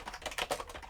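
Quick run of close keyboard clicks as someone types a command into a computer's command line, keys tapping in an uneven burst with no talking.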